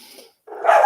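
A dog gives a short, sharp bark after a brief faint sound and a moment of silence, loud and close.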